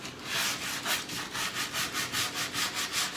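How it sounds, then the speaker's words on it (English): Reclaimed wood edge being hand sanded with 80 grit sandpaper held without a block, a steady rhythm of about a dozen rasping back-and-forth strokes, close and fairly loud. "So just going to use some 80 grit sandpaper held in my hand without a block"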